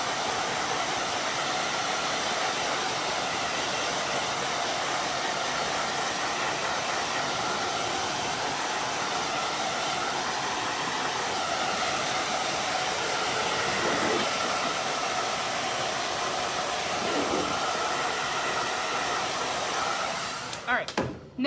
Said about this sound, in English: So I only use blow dryers if I'm on a live.